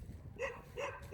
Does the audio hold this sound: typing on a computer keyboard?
no